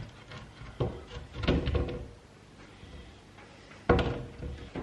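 A loft hatch door pushed up and open indoors, giving a few close, hollow wooden thumps and knocks with quieter shuffling between them.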